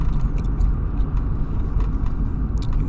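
A rustic car is driven along a road, its engine and tires giving a steady low rumble from inside the cabin, with small clicks and rattles over the continuous drone.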